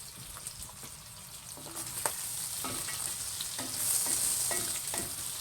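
Sausage for a New Orleans style Zatarain's jambalaya fries in a pan with a steady close sizzle and occasional scraping stirs, growing slightly louder toward the end.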